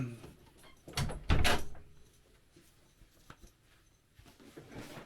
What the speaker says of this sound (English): I'm just gonna close the